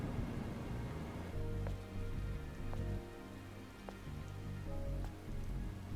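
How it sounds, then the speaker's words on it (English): Steady rain falls in the video game Stellar Blade over a ruined colossal city, a constant wash of drops hitting surfaces with faint low rumbling beneath, no voices. "This must be Earth's rain."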